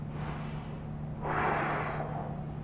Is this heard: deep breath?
yes